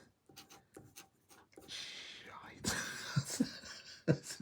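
A scratchy Kaweco Perkeo fountain pen nib scraping across paper in short close strokes, with breathy gasps and low murmured voices between and over the writing.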